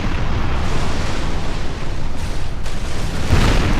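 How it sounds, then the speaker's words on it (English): Broadside cannon fire from sailing warships in a Napoleon: Total War multiplayer sea battle, a dense, continuous rumble of overlapping booms that stays loud and steady throughout, with no pauses between the blasts. "I now form a semicircle around the French ship, where all my ships now are firing on him"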